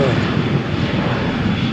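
A Jet2 airliner takes off from Malaga Airport's runway 13 on a stormy morning, bound for Birmingham; a loud, steady broadband engine roar fills the whole stretch without a break.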